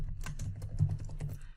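Typing on a computer keyboard to search Microsoft Access 2019 Help for keyboard shortcuts, with a quick run of soft, close key clicks and no talking.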